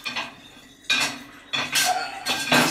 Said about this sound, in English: So let's put the dishes in the dishwasher.